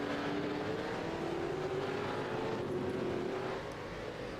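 A Mustang race car engine hums at a distance during a qualifying session, a faint steady tone slowly rising and drifting in pitch as the car circulates, with no voices.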